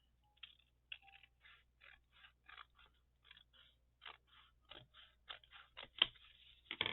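Scissors cut through paper for a Valentine envelope notebook, making a series of quiet, close snips and crisp paper scrapes in an uneven rhythm, with a louder cut near the end.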